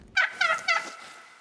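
Turkeys gobble in the hunting video game The Hunter: Call of the Wild: one close, clear bird gives three quick warbling bursts, then the sound trails off with no talk.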